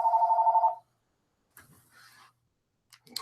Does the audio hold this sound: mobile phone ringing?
yes